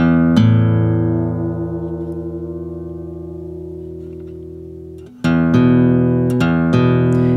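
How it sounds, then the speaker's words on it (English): A guitar's A string is plucked and left ringing while its pitch slides gradually upward by a whole step, then struck again with a few fresh, bright attacks near the end. It plays loud and close, with no talking. "I'm gonna go up a whole step on my A string."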